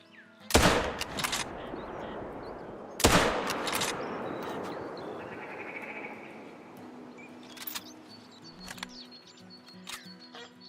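Two sharp, loud rifle shots from a hunting rifle in theHunter: Call of the Wild ring out a few seconds apart, each trailing off into a long echo, followed by faint clicks and quiet handling sounds.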